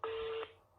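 A single electronic telephone tone sounds on a call, a steady beep lasting under half a second and then fading out, with no voices.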